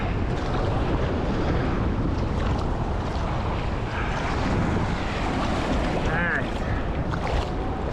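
Ocean waves at Playa Fundadores beach in the Riviera Maya, a continuous roar of surf and wash close by, with gusts of wind buffeting the microphone throughout.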